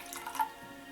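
Blessed water trickles briefly into a drinking glass, a soft, close pour with a small splashy peak midway, then fading.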